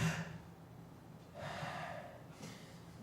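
A voice imitates rapid Kussmaul periodic breathing with a few quick, forceful breaths through the nose and mouth in short bursts, close and fairly loud.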